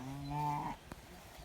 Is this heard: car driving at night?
no